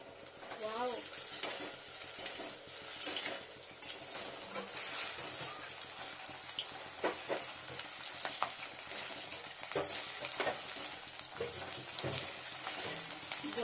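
Cauliflower pakoras fry in hot oil, a steady close-up sizzle and bubbling broken by stirring and scraping of a utensil against the pan, with no one speaking.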